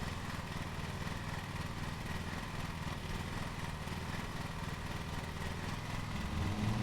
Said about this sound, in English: All right, now we are mowing.